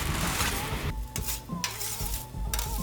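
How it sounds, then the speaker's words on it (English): Garlic, onion and pork mince sizzle in hot oil, a loud continuous crackling fry broken by a few metallic stirring scrapes and clanks of a utensil against the pan. "now for the sizzle"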